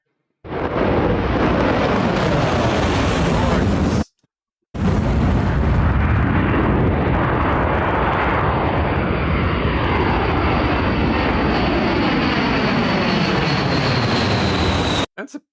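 U.S. Air Force B-52 Stratofortress and B-1B Lancer heavy bombers take off at Fairford, UK, their jet engines roaring loud and close in two long sustained blasts split by a brief gap, with the roar rising in pitch as they climb.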